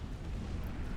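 A nuke detonates in the real-time strategy game Supreme Commander, producing a loud, sustained low rumbling blast that fills the whole moment without a break.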